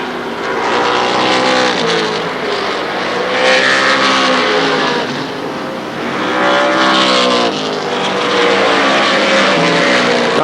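Race cars roaring down the front straightaway at Shadybowl Speedway during the Buckeye Fall Classic, a loud continuous wall of engine noise with pitch swells as cars pass close by.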